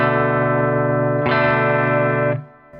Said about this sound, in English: And then we are going to slide our pinky up to the 3rd fret on the B string.